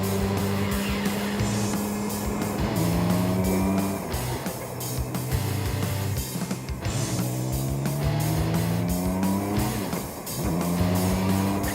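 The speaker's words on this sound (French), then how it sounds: "Une belle machine? Oui, un beau T-Rex 16S, version P." A Campagna T-Rex 16S three-wheeled vehicle, Canadian P version, drives with a loud, steady engine roar, its pitch rising and falling repeatedly as it accelerates and shifts, with tire noise throughout.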